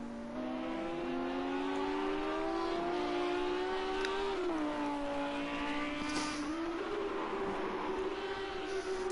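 GT3 race cars in a racing video game flick through a quick left-right chicane at foggy Oschersleben, the engine tone rising and dipping with gear changes, steady and fairly loud.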